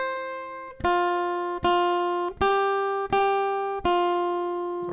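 Single notes are plucked on the B string of an acoustic guitar at the 1st and 3rd frets, five clear, evenly spaced notes ringing close and bright, with no voices.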